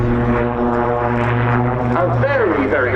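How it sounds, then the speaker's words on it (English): A propeller aircraft flying aerobatics at the RAF Cosford Air Show 2022 drones loudly and steadily overhead, its engine pitch wavering as it hangs on the propeller and falls back, with a commentator talking throughout. "the aircraft nearly hanging on the propeller as it falls back down through its own"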